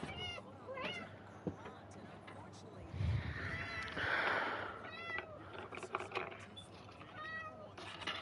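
A pet cat meows several times indoors, short plaintive cries spread through the stretch, with a person talking softly around them.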